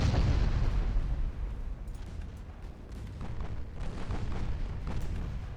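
Heavy cruiser main guns firing in a naval warship game set in the dreadnought era, a dense rumbling barrage of booms and blasts that stays loud throughout, surging again near the end.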